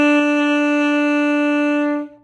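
One long saxophone note B played with the first key down, strong and steady with bright overtones, held close for about two seconds before tapering off.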